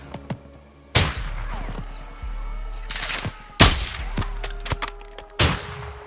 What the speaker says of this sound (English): Sir, they're returning fire.